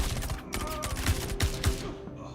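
Rapid automatic fire from a P90 submachine gun in a video game rattles out as dense, loud bursts of shots, with faint game sounds underneath.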